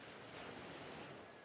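Ocean waves wash in a soft, steady broadband rush, faint and distant-sounding for a brief moment, with no voices.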